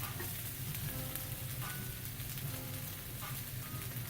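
Garlic sizzles as it goes into onions frying in a skillet for enchilada rice, a dense, steady hiss and crackle that stays close and even throughout, with no voices.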